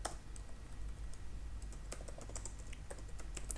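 Keys on a computer keyboard are typed in an irregular run of quick taps, close and moderately loud, with no talk over them.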